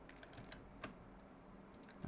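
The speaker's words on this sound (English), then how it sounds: "I'm pressing the wrong keys everywhere." Scattered clicks of computer keyboard keys being pressed, irregular and quiet, a few taps spaced through a short stretch with a cluster near the end.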